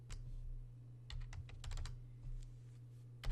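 Keystrokes on a computer keyboard during spreadsheet work, quiet clusters of close clicks in short irregular bursts over a steady low electrical hum, with no voices.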